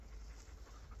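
A dog panting outdoors in the woods, with quick, breathy, faint panting heard briefly and up close.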